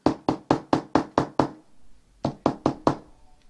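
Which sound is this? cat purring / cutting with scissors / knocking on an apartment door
knocking on an apartment door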